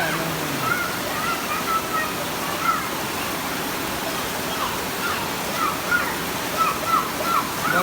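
Floodwater rushes steadily into a house, a continuous broadband roar of pouring water with faint voices and higher calls scattered over it.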